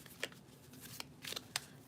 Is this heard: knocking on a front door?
no